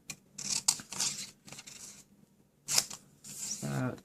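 Scissors snip through card stock while a masculine thank-you card is made, several close, crisp cuts arriving in short bursts, with a voice talking at the end.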